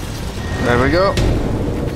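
A Reaper indoctrination device blows up in Mass Effect 2, a deep rumbling boom with a sharp burst and lingering roar, while a voice is also heard.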